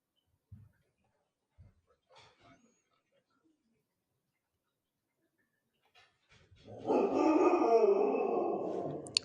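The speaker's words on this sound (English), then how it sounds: "Sorry, that's my dog howling, my husky." A husky howls indoors, starting with a few faint yips and whimpers, then rising into a loud, sustained wavering howl that fills the last few seconds.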